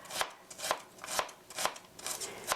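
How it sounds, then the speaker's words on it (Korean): Knife chopping ingredients for a deep pan pizza on a board, six crisp evenly spaced strokes about half a second apart, close and clear with no talking. "찹스 다져 주세요."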